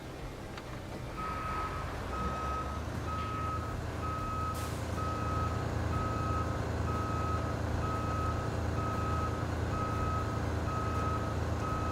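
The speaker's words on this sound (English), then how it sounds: "Now I'm just going to try and reverse straight over." A truck's reversing alarm in the Roadcraft video game beeps in a steady, evenly spaced pulse over a constant low engine rumble, loud and close, with one brief clank partway through.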